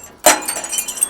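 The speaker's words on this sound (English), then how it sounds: "This guy smashes the glass" Glass shatters loudly from an old 1930s junkyard truck cab, a sharp crash followed by a brief scatter of tinkling shards, close and alone.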